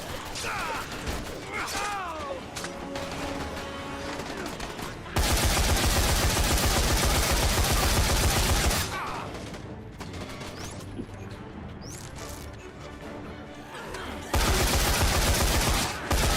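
Gunfire from the video game Dead Rising 4: long, dense bursts of rapid automatic shots, loud and continuous, broken up by mechanical clatter and quieter gaps where someone talks.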